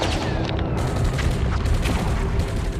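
Machine gun fire from a nearby hedge in a World War II battle scene, a dense, loud wash of gunfire and booming blasts with scattered sharp cracks, continuous and close, with no talking.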